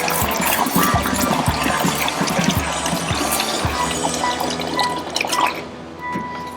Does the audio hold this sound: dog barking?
no